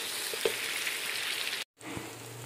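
Finely chopped tomatoes go into a pan of frying fish masala, giving a steady, close sizzle with a brief cut-out before the frying resumes.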